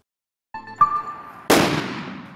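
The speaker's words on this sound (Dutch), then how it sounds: "Dit zou wel eens de trend van oud en nieuw kunnen worden, karbietschieten." Carbide shooting for New Year's: a ringing metallic click and hum, then one loud, sharp bang that echoes and fades over about a second outdoors.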